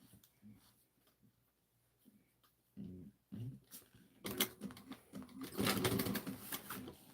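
A sewing machine understitches a seam on a Miranda tote bag, a quiet start giving way to louder bursts of rapid stitching in the second half, with a voice heard briefly.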